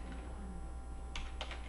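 Quick taps on a computer keyboard during spreadsheet work, a few close, crisp keystrokes clustered near the end over a low steady hum.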